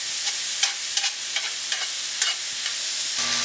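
Lean ground venison browning in a pan, with a soft steady sizzle broken by several sharp scraping strokes of stirring, close and alone without any talk.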